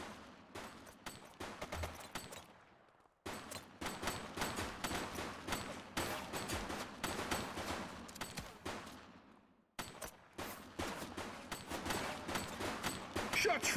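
Sustained gunfire in a video game police shootout against gang members: dense, rapid bursts of shots rattling almost continuously, with two brief pauses between volleys, loud and close.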